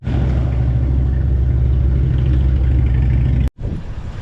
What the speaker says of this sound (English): That was a cool bike.